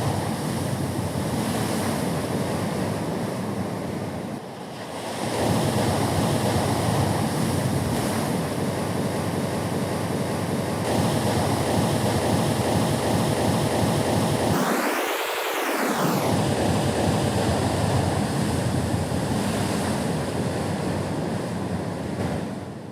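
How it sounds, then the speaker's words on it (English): Field recording of waves on the Baltic Sea, a steady broadband rush of surf with wind noise buffeting the microphone, a brief dip near five seconds and a swelling sweep around fifteen seconds, no voices. "maybe a field recording, like waves from the Baltic Sea"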